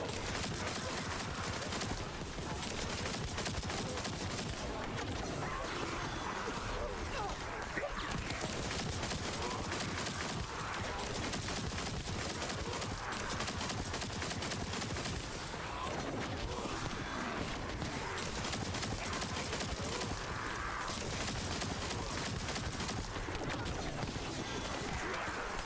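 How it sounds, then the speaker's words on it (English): Dense, continuous barrage of weapon fire in The First Descendant, rapid overlapping booms and mechanical clatter like artillery bombardment, loud and unbroken throughout with game effects layered in. "Bombardment. Dude, it's like spewing some artillery."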